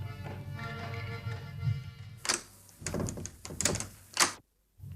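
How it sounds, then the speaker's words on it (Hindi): A door being opened early in the morning in a household radio drama: a low hum, then a handle rattle, bumps and a creaking swing with a final thud before silence, and no voices. "मैं उसका दरवाजा खोल लूं।"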